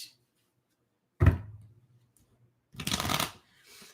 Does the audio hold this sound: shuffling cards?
yes